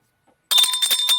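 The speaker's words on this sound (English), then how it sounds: "Ring the bell." A bright bell rings loudly after a brief near-silence, its sustained metallic tone with steady overtones holding through the rest of the moment, close and alone.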